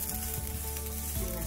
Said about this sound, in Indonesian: sekarang saya lagi masak nasi goreng